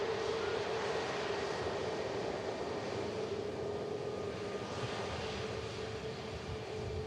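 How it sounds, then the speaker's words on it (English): Learjet engine at Manchester Airport: a steady broad roar with a sustained whine, fairly loud and unchanging throughout, no one talking. "And here's the Learjet."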